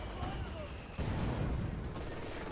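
Battle sounds in Company of Heroes 2, a Vickers machine gun among them: dense, continuous rattling gunfire with booming impacts, with a voice talking faintly over the din.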